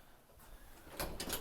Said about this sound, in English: if you come through our secure lock, this heavy door